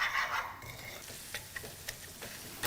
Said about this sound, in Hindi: घी में रवे को कर लिया लाइटली ब्राउन